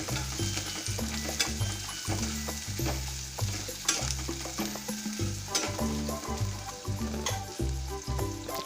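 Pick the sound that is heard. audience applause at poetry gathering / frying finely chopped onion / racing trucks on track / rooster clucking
frying finely chopped onion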